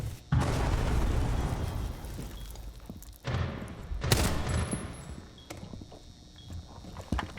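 Gunfire in Rainbow Six Siege comes as loud bursts of rapid shots and sharp cracks, heavy at first and then in shorter, scattered volleys with lingering echo.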